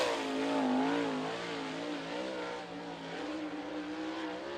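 A USAC sprint car engine on a qualifying lap at Ocala revs loud and high, its harmonic whine wavering as the car accelerates and eases, heard continuously with no talk over it.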